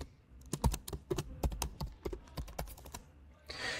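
Rapid, uneven clatter of keys being struck on a computer keyboard as a password is entered, close and crisp, with a short burst of hiss at the end.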